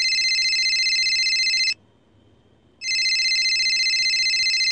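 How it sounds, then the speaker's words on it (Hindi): A cartoon telephone rings in Perman: a loud, bright electronic trill that cuts off for about a second, then resumes, steady and close. "मित्सो के पापा का फ़ोन फिर से बजता है।"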